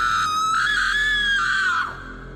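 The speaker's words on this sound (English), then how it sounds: "all of a sudden my date screamed" A woman lets out a single sustained, high-pitched scream lasting nearly two seconds, loud and close. It wavers slightly, then drops off and fades into quiet.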